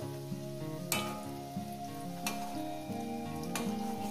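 Steady crackling sizzle of drumstick flower fritters frying in hot oil, with a few brief louder bursts of spattering at intervals.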